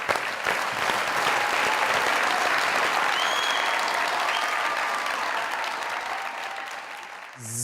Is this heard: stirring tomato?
no